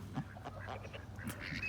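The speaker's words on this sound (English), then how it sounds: "Look at the ducks and the geese swimming all elegant like." Ducks and geese on the water give scattered quacks and honks that are moderately near and intermittent, over a low background rumble.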